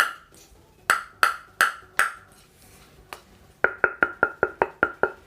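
A Spinlab ALC Airlight Carbon table tennis blade, two carbon plies plus five wood, rapped by knuckle: a few spaced hollow pings, then a quicker run of about eight evenly timed taps, close and clear.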